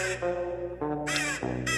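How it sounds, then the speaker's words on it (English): Crows cawing in a music track, a few loud harsh calls in bursts with short gaps, set against a sustained tonal musical background. "The birds are calling, definitely. I can hear it in the beginning."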